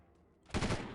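Gunfire in the video game Delta Force 2 arrives as a sudden loud burst of rapid automatic shots after a quiet start, close and harsh.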